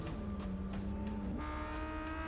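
A Lamborghini Gallardo LP560-4 with its V10 engine in the Gran Turismo racing game holds a steady, smooth drone, then climbs in pitch partway through as it revs higher. The engine is constant and clear, with no voices.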